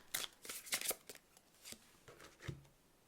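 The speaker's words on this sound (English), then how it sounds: "let's just pull these oracle cards" Oracle cards being shuffled and pulled by hand, several quick papery riffling bursts at close range followed by softer slides and taps, with no talk.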